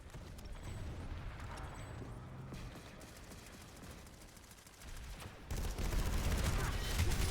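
Gunfire in a shooter video game crackles in dense bursts, quieter early on, then turns loud and sustained near the end.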